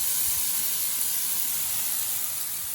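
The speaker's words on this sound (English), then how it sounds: "So I'm gonna take these glass noodles and drop them onto that skillet while the butter's on there." Glass noodles sizzling in butter on a hot skillet, a steady, close, bright hiss that holds evenly throughout with no talking.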